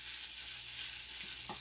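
Food toasting in a pan with a steady broadband sizzle throughout, close and even, a couple of brief stirring scrapes near the end; no one talks.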